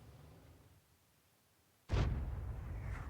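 Artillery fire in a tank video game: after a quiet stretch, one sudden loud boom lands near the end and rumbles on as a sustained low roar.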